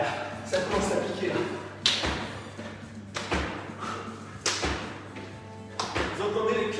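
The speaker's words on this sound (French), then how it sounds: "Vous entendez les claques sur le genou?" Hands slap knees in a cardio workout, a series of about five sharp, fairly loud thuds spaced roughly a second and a half apart over a steady low hum.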